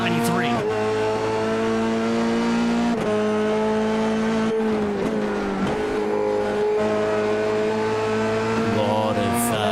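A Formula 3 race car engine at Oulton Park, heard onboard, screams loudly at high revs, shifting through gears with sharp pitch drops and climbs, with a brief announcer voice over it.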